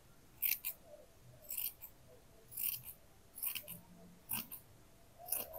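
Scissors snip through plain woven fabric to cut it into two pieces, a series of crisp, close cuts coming in small clusters with short pauses between them in a quiet room.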